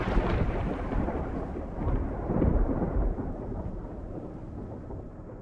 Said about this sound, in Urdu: بادل بہت تیز گرج رہے تھے۔